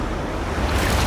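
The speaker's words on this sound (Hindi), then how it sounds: "ये आई बड़ी लहर।" Large sea wave surging and crashing on rocky shore beside an island, a broad continuous roar of surf and spray building louder toward the end, close and loud with wind noise.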